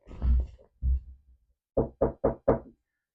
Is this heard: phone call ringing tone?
no